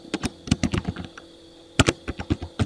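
Keys clatter on a computer keyboard in two quick bursts separated by a short pause, the clicks close, crisp and fairly loud with nobody talking.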